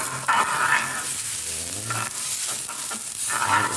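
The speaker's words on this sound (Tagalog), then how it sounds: "Paikot-ikot para maluto na siya" Butter sizzling and frying steadily in a pan (kawali) while a utensil stirs it round and round, scraping in short bursts over a constant crackling hiss, close and fairly loud.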